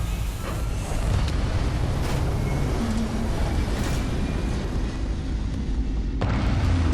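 Spaceship thrusters roar continuously during takeoff in Starfield, a loud, dense rumbling blast that holds steady throughout with no speech over it.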